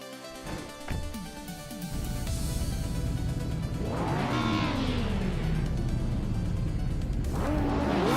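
Race cars launch off the line at Maple Valley short reverse in a racing game, with BMW, Skoda and Opel entrants. Engines rev and whine upward as several cars pull away, two loud sweeping passes rising and falling. No one speaks.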